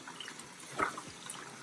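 Soaked red peas are rinsed in water, giving a soft swish and trickle with a single clearer splash near the middle, quiet and close, with no voices.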